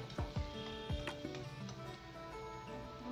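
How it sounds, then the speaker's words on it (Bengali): Tomatoes and vegetables stirred in hot oil give a faint steady sizzle, with light ticking clicks and knocks of the utensil against the pan in an irregular rhythm. "তেলে নাড়িয়ে নিচ্ছি"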